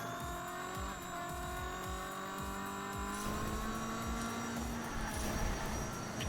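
Racing car engine in the video game Hot Wheels Unleashed, a steady high-pitched whine with rising pitch as the car accelerates, layered with tire noise and a brief screech near the end.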